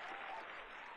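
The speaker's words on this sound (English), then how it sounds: "Do a round of applause or something." Applause from a crowd fills the whole brief moment, a steady dense wash of clapping at moderate level with no break.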